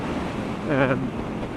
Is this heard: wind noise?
yes